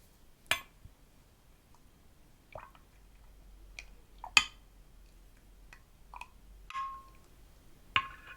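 Soft, sparse drips of tea falling from a dribbly teapot spout with no cosy to catch them, a handful of separate quiet plinks spread over several seconds in an otherwise still room.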